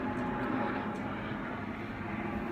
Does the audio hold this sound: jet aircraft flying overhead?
yes